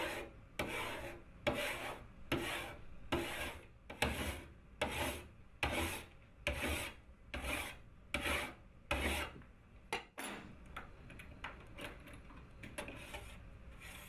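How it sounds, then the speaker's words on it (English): Rhythmic rasping strokes of a tool bevelling the edges of a copper etching plate, about a dozen even back-and-forth scrapes with no one speaking, then quicker, lighter scraping near the end. "a copper metal plate is cleaned and the edges are beveled"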